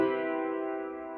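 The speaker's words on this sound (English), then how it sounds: "It's a B natural. Your B is going to be your 7th tone in the key of C." A single sustained B natural, the major seventh in the key of C, rings out from a pitched instrument, steady and clear with rich overtones, fading slowly over about a second with no voices.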